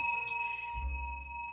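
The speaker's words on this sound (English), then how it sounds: "We're ringing bells." Small bells ring at a live online stream: a thin, sustained metallic tone like a bicycle bell hangs steady and faint through a short moment, with a low rumble rising partway through and no talk.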